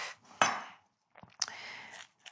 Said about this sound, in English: So we'll just chop these onions.